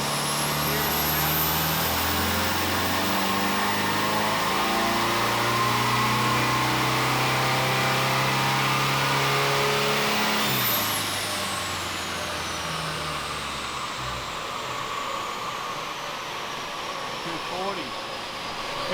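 A car engine revs hard and holds high, a rising whine running over a heavy low drone as a wheel spins in place. Partway through the pitch drops and the revs fall off to a rougher, lower grind.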